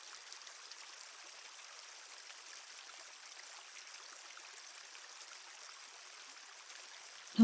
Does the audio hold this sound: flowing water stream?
yes